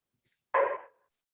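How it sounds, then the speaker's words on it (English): A single sharp dog bark rings out close and clear from a quiet background, then fades quickly. "my dog started barking right when you turned it over to me"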